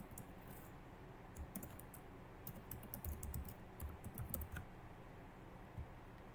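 Quick bursts of typing on a computer keyboard, light clicky keystrokes in uneven runs with short pauses, close and fairly quiet against a soft room hiss.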